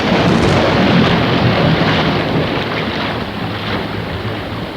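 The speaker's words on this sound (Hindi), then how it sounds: "उधर तेज तूफान, वर्षा और जल के भयंकर प्रवाह से नौका संभालना मुश्किल हो रहा था" A fierce storm with heavy rain and a violent rush of floodwater around a boat, a dense, steady roar of wind and water that stays loud and unbroken throughout, with no voices.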